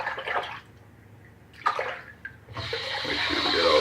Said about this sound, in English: Make sure we get all the soap rinsed out of there.